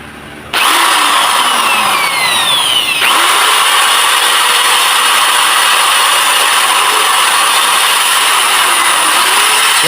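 An electric drill plugged into a household panel box whirs up abruptly and runs loud and steady for nearly ten seconds, its high motor whine briefly sweeping in pitch near the start before holding even.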